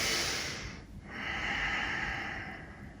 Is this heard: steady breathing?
yes